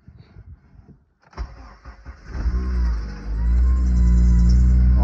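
A freshly rebuilt Honda K20Z3 engine in a 2009 Civic Si FG2 cranks briefly, then catches and rises into a loud, steady high idle, with a faint electrical whine over the running engine.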